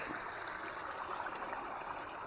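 A small forest creek at its source trickles and babbles steadily, close and fairly soft, with no other sounds.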